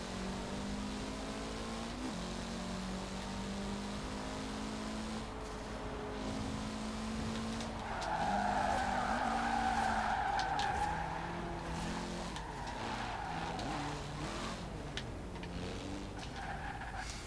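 Mitsubishi car in the racing game Forza Horizon 4, engine droning steadily through shifting revs, with a louder skidding tire squeal swelling in the middle before easing back into continuous engine noise, no talk.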